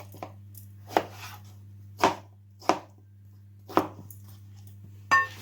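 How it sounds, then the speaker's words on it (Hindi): A knife chops a cucumber into pieces on a cutting board for a weight-loss salad, giving about six distinct, evenly spaced thuds over a steady low hum, with no talking. "सबसे पहले हम खीरा लेंगे, इस तरह टुकड़ों में काट लें।"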